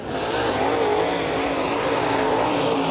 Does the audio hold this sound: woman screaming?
no